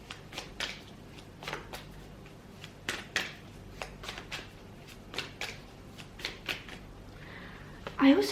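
Tarot cards being shuffled from a deck in a series of crisp, close riffling bursts, some grouped in quick pairs, with a louder rustle at the end.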